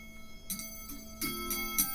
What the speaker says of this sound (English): I mean, listen, these little chimes in here.